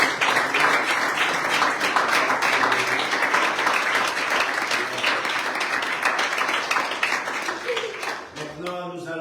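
A church congregation claps and applauds during a French-language worship service, sustained and dense for several seconds before tapering off as the clapping thins near the end.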